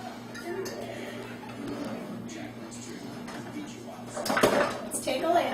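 Dishes clatter as a bowl is taken out in a home kitchen, with soft clinks early on, then a louder burst of crockery knocking together near the end, while someone talks.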